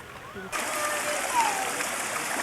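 A creek flows in Kirstenbosch garden in South Africa with a steady, close rush and splash of water that swells in suddenly after a short quiet moment and then holds evenly.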